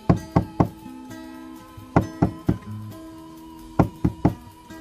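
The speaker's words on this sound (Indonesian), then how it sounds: "Ia kemudian mengetuk-ngetuk beberapa kali." Knuckles rap on a hotel room door in three quick bursts of three knocks each, sharp and close, with short pauses between the sets.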